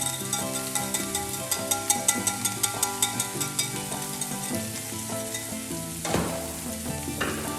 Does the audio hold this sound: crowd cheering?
no